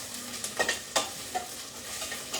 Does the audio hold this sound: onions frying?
yes